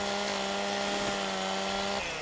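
A chainsaw in a video game drones at a steady, loud pitch while delimbing trees, holding constant for about two seconds before cutting off abruptly into a quieter engine tone.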